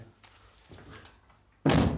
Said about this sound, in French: Tu veux pas me fermer la porte du machin, là?